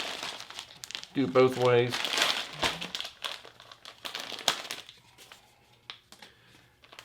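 A Swedish 24-hour combat ration bag is crinkled and torn at its tear notch, with loud plastic rustling and ripping close up while someone talks over it.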